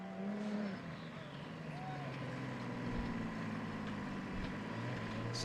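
The Yeoman entry race car, number 496, crosses the line during an enduro, its engine droning and shifting pitch as it passes at moderate distance over steady background noise, with no one talking.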